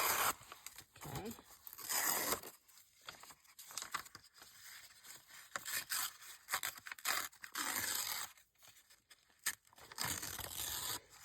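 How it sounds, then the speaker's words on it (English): Gel plate printed paper is ripped slowly by hand, close and crisp, in several long tearing bursts separated by brief pauses, with no voices heard. "So here I am holding it with my left and ripping it with my right hand."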